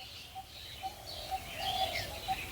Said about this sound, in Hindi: जो चिड़िया का आवाज़ आ रहा होगा